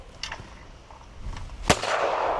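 A single sharp shotgun blast rings out at an overhead clay target on an outdoor shooting ground, preceded by faint wind and movement noise.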